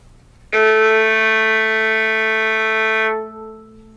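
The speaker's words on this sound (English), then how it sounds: "Our first finger will play a low A on the staff, and it sounds like this." A violin sounds low A on the G string, first finger: one sustained bowed note that starts cleanly, holds steady and bright for about two and a half seconds, then stops, alone and close.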